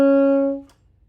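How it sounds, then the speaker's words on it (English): Saxophone sounding a single sustained middle B-flat using the TA side-key fingering, a steady clear tone lasting about half a second before cutting off, with no voice over it. "This gives us A sharp or B flat in the middle of the staff"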